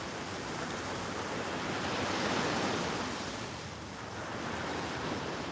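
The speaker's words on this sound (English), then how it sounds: "Sunset and waves." Ocean surf at sunset, a steady broad wash of breaking waves that swells and eases, loud and continuous with a windy hiss, no voices.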